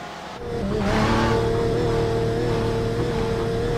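Race cars in the iRacing simulator at the Nürburgring rise into a loud, steady engine drone, with a sustained high whine holding for several seconds.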